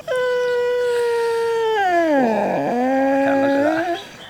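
A rescued dog named Lionel Messi howls in one long, sustained, wavering cry that dips in pitch and rises again, loud and close, fading out at the end.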